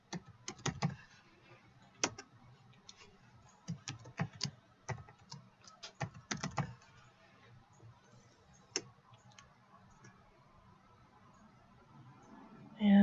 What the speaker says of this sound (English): we're going to type in admin